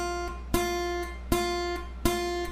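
A guitar note fretted in the middle of the fret is picked three times in succession, each ringing briefly with a faint buzzy rattle on top of the tone.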